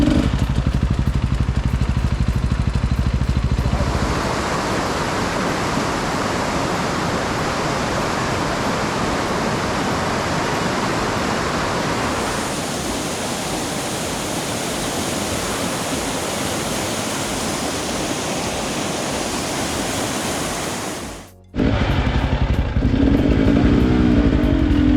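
A motorcycle riding on a road in Papua New Guinea, a loud continuous wind-and-engine roar heard close from the rider's position, shifting in tone partway through and briefly dropping out near the end before resuming.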